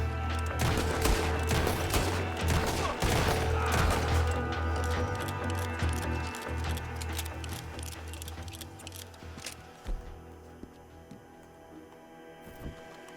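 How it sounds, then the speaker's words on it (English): Repeated gunshots fired at a turkey in the Red Dead Redemption 2 video game, a dense run of sharp cracks that thins to a few scattered shots as it fades. "¿Cuántos tiros le tengo que meter a este pavo para que se muera?"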